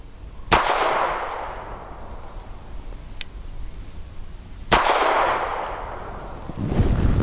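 Two sharp, loud gunshots from a Bersa TPR9 9mm pistol firing Norma 124 grain Hexagon ammunition at an outdoor shooting range, each crack trailing into a long echoing decay, spaced about four seconds apart.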